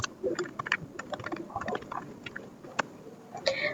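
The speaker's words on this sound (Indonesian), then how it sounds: "Di sini kita ketikkan ping" Rapid, uneven keystrokes on a computer keyboard as a ping command is entered to reach a Debian server on a local network, close and fairly quiet, with clustered taps and a few sharper clicks near the end.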